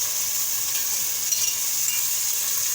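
Minced meat (keema) sizzling steadily in hot oil with garlic ginger paste while being stirred, a continuous close frying hiss with no voices.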